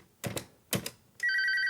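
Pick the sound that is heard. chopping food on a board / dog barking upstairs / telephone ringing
telephone ringing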